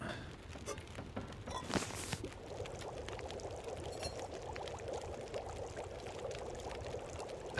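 Tea cooking over a fire in The Long Dark: a soft, steady pouring and simmering of liquid that runs faint and continuous, with a brief louder rush near the start and no talking.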